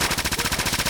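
Rapid automatic gunfire from an Ingram MAC-10 submachine gun in Fallout 4, a steady burst of about a dozen evenly spaced shots over one second, loud and close with no talk.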